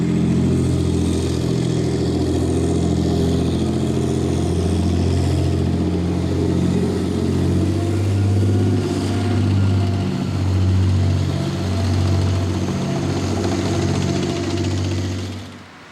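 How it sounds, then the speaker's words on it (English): A Challenger 2 tank's engine drones loud and close as the tank drives at the Newcastle works, with a thick, steady rumble that swells and eases slightly before fading near the end. "They make tanks here like this Challenger 2, right on the site of Armstrong's old works"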